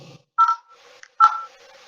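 Two short, clear phone keypad tones beep a moment apart, each a crisp electronic dual-tone press, with faint quiet sounds between them.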